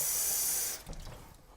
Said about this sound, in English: you're just going to want to fill it with water